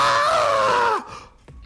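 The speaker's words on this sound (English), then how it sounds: "A scream? What? This is a voice I've heard before." A single sustained scream in the video game Danganronpa: Mauve, loud and close, holding for about a second before breaking off and falling away into a quiet tail.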